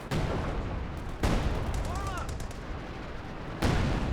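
SU-76 barrage shells impacting in the Company of Heroes 2 video game, two or three sharp explosive blasts separated by noisy rumbling, moderately loud over a busy battlefield background.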